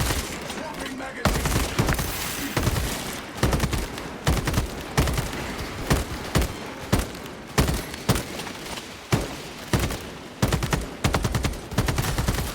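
Rapid bursts of video game gunfire crackle in steady repeated volleys, loud and close, with a voice talking intermittently underneath.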